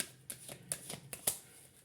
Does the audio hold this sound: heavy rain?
no